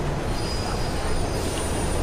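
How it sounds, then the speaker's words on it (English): A train rumbles through a tunnel in Mirror's Edge, with a loud, steady roar and a faint high wheel squeal throughout. "There's a train coming behind you."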